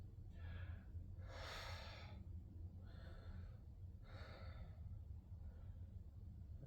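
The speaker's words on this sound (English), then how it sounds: "start to breathe through your nose" Breathing through the nose during a bioenergetic breathing exercise: five slow, airy inhales and exhales in a steady rhythm, close and fairly soft against a low background hum.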